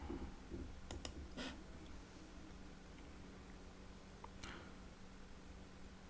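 Computer mouse clicks on a Windows 10 PC, a few faint, sharp clicks, some in a quick pair, spaced across a quiet stretch with steady background hiss.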